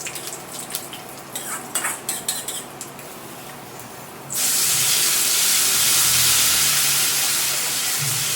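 Garlic goes into a hot pan: first a few light clinks of a utensil against metal, then a sudden, loud, continuous sizzle that keeps going to the end, close by and with no talking.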